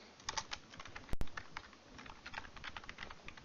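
Code being typed on a computer keyboard, a steady run of close key clicks with one sharp louder clack partway through, and no speech over it.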